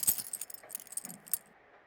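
Keys jangle in the video game Persona 4 Golden, a brief metallic rattle with a few clinks, fairly quiet and lasting under two seconds, with no talk.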